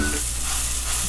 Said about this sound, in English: then you're going to brown your onions with the rice